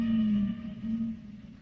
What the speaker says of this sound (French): En revanche, le groupe des baleines émet des vocalises.